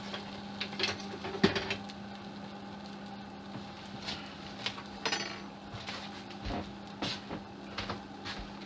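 A metal fork is wedged under the front of a kitchen stove to level it, giving scattered metallic scrapes, clinks and knocks over a steady low hum, close and fairly loud.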